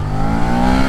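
Suzuki SV650 2023 motorcycle accelerating hard at full throttle from about 20 km/h on a straight, a loud, steady engine roar with rising pitch, close to the rider and without speech.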